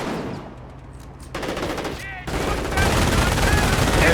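Half-track machine gun fire in the video game Company of Heroes, loud rattling bursts that grow denser and heavier over a few seconds, mixed with other battlefield gunfire and in-game effects.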